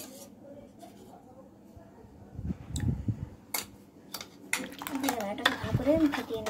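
Sour yogurt is whisked in a bowl, producing quick scraping and clinking strokes that grow busier and louder toward the end.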